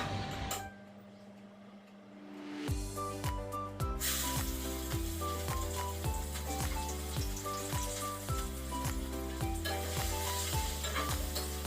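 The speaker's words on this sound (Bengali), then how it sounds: "এবার আমি কড়াই বসিয়ে দিলাম এখানে এখন রান্না করে নেব ঘুগনিটাকে" Boiled ghugni cooking in a kadai, starting with a quieter hiss before loud, continuous close sizzling sets in with regular stirring scrapes and clinks.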